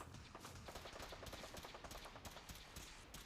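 Rapid gunfire from the video game Fallout 4, a dense, steady stream of quick shots running straight through at close range with no talk over it.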